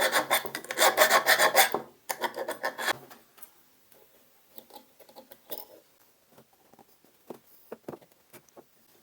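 Someone rubs the contact points of a metal strip for a DIY 12V solar geyser, making a loud, dense rasping scrape for about three seconds, then quieter scattered scratches and taps.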